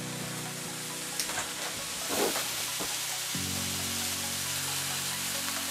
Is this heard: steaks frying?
yes